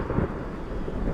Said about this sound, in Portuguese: Volta a sentir a chuva.